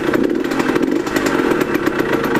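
A motorcycle engine idles after its cylinder, piston and rings were replaced, running in to let them bed. The engine makes a rapid, buzzy single-cylinder putter that stays loud and close throughout, with no talk.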